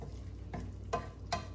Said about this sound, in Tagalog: Ukayon sa nato guys